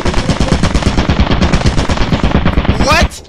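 Turret in the video game Lethal Company firing a loud, sustained rapid-fire stream of shots for about three seconds before it cuts off, with a brief whooshing sound at the end.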